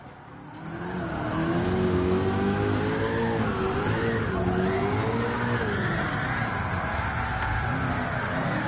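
Cars drifting in Gran Turismo 7, engines revving high with rising and falling pitch and tires squealing continuously as they slide, loud and close throughout.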